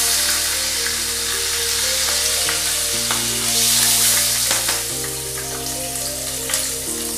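Whole garam masala and bay leaves frying in a pan for chicken curry, a loud continuous sizzle with scraping stir sounds and a few sharp clinks, over quiet background music and no speech.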